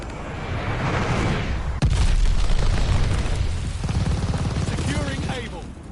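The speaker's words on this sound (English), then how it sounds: "Enemy's got a glide bomb incoming." A glide bomb explodes in the video game Call of Duty: Vanguard, a sudden sharp boom that rolls into a long, heavy rumble among dense battlefield noise and voices.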